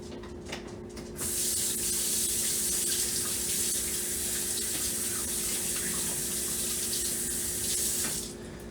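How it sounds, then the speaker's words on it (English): A kitchen tap is turned on and runs in a steady, loud hissing stream over hands being washed for about seven seconds, then cuts off, with faint clatter before and after. "I need to wash my hands again for this."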